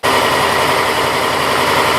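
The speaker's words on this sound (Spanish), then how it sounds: "arrancas la moto" Motorcycle engine fitted with a universal digital speedometer, starting abruptly and then idling loudly and steadily at close range, with no voices.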